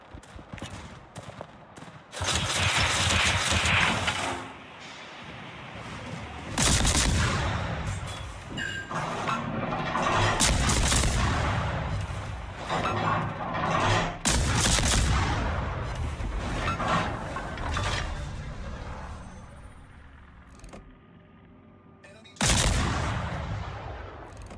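Warship guns firing in World of Warships, heavy booming salvos and long rumbling blasts that pile up loud and dense, broken by brief lulls and a final heavy report.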